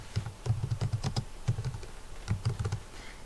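Someone types on a computer keyboard, two quick bursts of crisp, close key clicks separated by a brief pause, with no voices.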